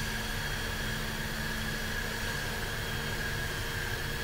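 A Fendt tractor engine in Farming Simulator 15 drones as a steady, even hum with a faint whine on top, constant and unbroken throughout, with no voices.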